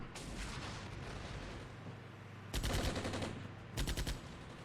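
Simulated gunfire crossfire in the Armored Brigade war game, distant rumbling fire broken by two louder bursts of rapid automatic shots, all fairly faint overall.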